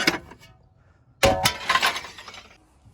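Glass shattering during interior demolition: a faint tinkle, a pause, then a sharp loud crash followed by a spray of falling shards and clinks that fades out.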